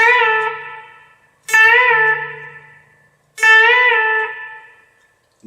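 Three plucked notes on a four-string cigar box guitar at the 10th fret of the B string, each ringing clearly and bent up then released, decaying alone before the next pluck.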